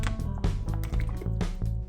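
Spring water from a Publix store sloshes and gurgles up close in a quick series of pouring or gulping pulses, wet and rhythmic against a low background hum.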